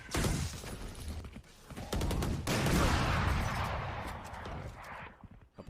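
Sniper rifle shots from the Operator in a Valorant pro match on a competitive map, a few sharp loud cracks amid busy game sounds and mechanical clatter, with some commentary faint underneath.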